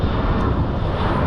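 An aeroplane passes overhead, a steady broadband engine roar that stays loud and even throughout, with no other sounds.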